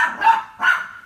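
Chica, a small pet dog, gives two sharp, close barks in quick succession, loud and alone in an indoor room.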